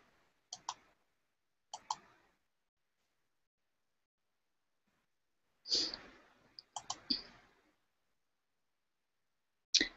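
Computer keys clicking in small clusters, a pair of quick taps near the start, a single tap, then a denser run of several clicks and a final tap, crisp and close in a quiet room.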